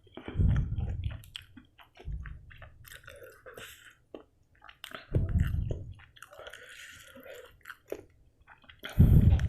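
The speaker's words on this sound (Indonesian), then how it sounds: "Sambalnya kita simpan di atas bakso, langsung kita gigit." Close-up bites and chewing of a spicy bakso bogem meatball topped with chili sambal, with soft wet squishes and crunches in several bursts, the heaviest at the start, middle and end, and no talking.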